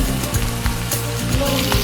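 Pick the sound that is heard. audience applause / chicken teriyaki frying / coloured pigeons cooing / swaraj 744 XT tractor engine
chicken teriyaki frying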